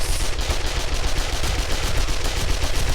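Rapid, dense gunfire rattles without pause as zombies shoot into a player's base in the 7 Days To Die video game, loud and continuous machine-gun bursts filling the whole stretch.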